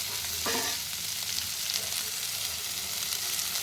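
Ginger and garlic frying in a pan with steady, close sizzling throughout and a brief scrape or stir early on, no voices.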